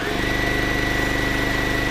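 A sewing machine stitches down a Bargello quilt strip with a fast, even mechanical chatter and motor hum, close and steady with no talk.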